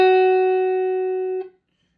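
One clean guitar note, F sharp on the second string at the seventh fret, sustains evenly at moderate loudness for roughly a second and a half and then is cut off.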